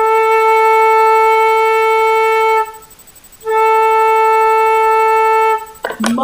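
A flute holds a long, steady sustained A note with a pure harmonic tone, breaks off for under a second, then resumes the same note, ending as a voice begins to speak.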